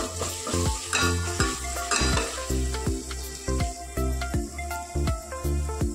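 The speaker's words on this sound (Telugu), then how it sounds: "ఇలా లైట్గా గోల్డెన్ కలర్ వచ్చినాక అల్లం వెల్లుల్లి పేస్ట్ వేసుకోవాలి. దీనిని ఒకసారి కలుపుకుందాం." Ginger garlic paste fries in a pan for amaranth leaf fry while a spatula stirs in a steady rhythm, with repeated scraping strokes riding over a strong close sizzle.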